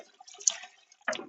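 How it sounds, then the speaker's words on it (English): A paint roller gets its last rinse in fresh water, heard as faint close splashes and drips with a brief sloshing burst near the end. "this would be the final rinse in the fresh water to make sure it's nice and clean"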